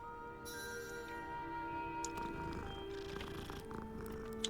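A magical cat in Hogwarts Legacy purrs softly while being petted, a low steady rumble accompanied by faint game music tones and a few light clicks.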